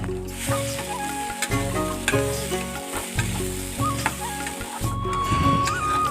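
Potatoes and peas fry in a pan with salt and turmeric for ghugni, giving a steady, close sizzle over six seconds with a sustained tonal backing running underneath.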